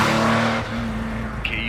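A car drives hurriedly toward a bakery, its engine humming steadily up close with a slight shift in pitch partway through and a brief higher tone near the end, no voices.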